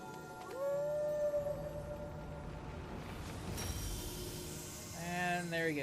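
A dog howls in Final Fantasy XIV with long, wavering, rising cries, one early and another near the end, over a steady game soundtrack.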